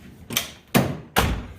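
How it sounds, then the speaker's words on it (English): Three car doors on a Ford Crown Victoria shut one after another, each a close, solid thud spaced about 0.4 seconds apart. "we're going to close the doors"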